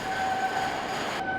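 Cable train descending through a dark undersea tunnel, a steady close rumbling ride with sustained tonal whine from the rails, continuous and unbroken.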